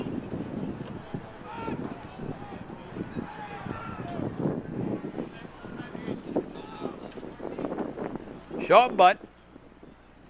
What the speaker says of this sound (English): That wind blowing right into that dugout.